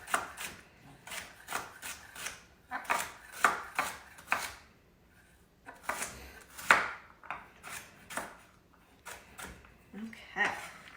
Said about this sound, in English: we are going to chop